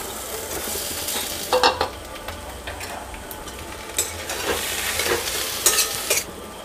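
Mashed potatoes and chopped chillies sizzle and fry in a pan while a spoon stirs and scrapes against it, a steady hiss with a few louder scraping bursts close by.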